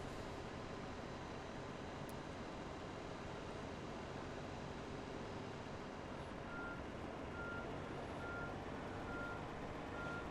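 A baggage truck in a flight simulator game reverses with a steady run of repeated beeps. The beeps sit over a constant low rumble of airport and engine noise, and nobody speaks.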